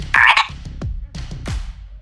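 A tiny Pac-Man frog in a terrarium gives a run of several short, close croaks, each a quick grunting chirp, loud at first and then repeating irregularly over two seconds.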